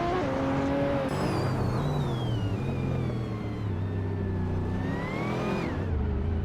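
A 2004 Ford Doran JE4 race car in a racing game, its engine droning and revving steadily with shifting pitch, loud and close throughout, with no voices.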